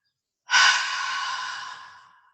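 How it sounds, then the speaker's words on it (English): Someone in a yoga breathing exercise lets out a long, audible exhale that starts abruptly loud and breathy, then tapers off gradually over about two seconds, alone with no talking. "Inhale deeply, and we'll all exhale with sound."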